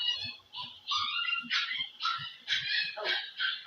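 A dog barks and yips in a rapid, uneven string of short, fairly close sounds over a lesson on graphing trigonometric functions, with no talk heard during the barking.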